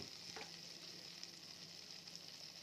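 Whole spices including shahi jeera, garam masala, cloves, cinnamon and cardamom fry in oil in a pan while being tossed, giving a steady soft sizzle with a brief stir or clink early on, close and fairly quiet.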